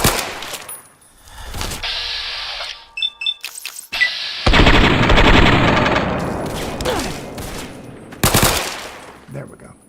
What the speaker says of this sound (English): We can shoot all the fiends in the head,